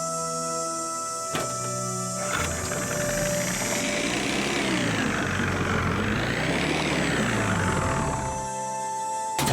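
A faulty engine runs in the Nancy Drew game Ghost Dogs of Moon Lake, a rough continuous mechanical whine that rises and falls in pitch, with a couple of sharp clicks at the start and end.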